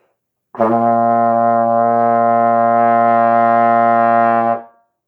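A trombone sounds a single sustained concert B flat in first position with the slide fully in, a steady, rich brassy tone held for about four seconds alone before it stops cleanly.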